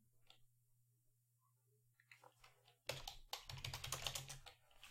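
Typing on a computer keyboard, faint and sparse at first with a few scattered key taps, then a quick burst of denser, louder clattering keystrokes over a low steady hum.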